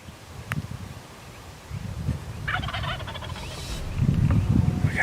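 A wild turkey gobbles in a rattling burst during a spring hunt, with a quieter earlier call and rustling in outdoor wind; the gobble grows louder toward the end as the bird draws near.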